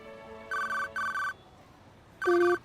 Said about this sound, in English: Unexpectedly, his cell phone rang.